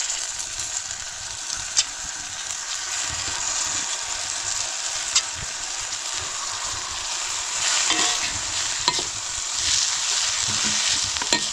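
Moringa flowers and dried shrimp being stirred into a simmering gravy in a pot on a wood-fired stove, a steady sizzle with occasional scraping stirs and light clinks throughout.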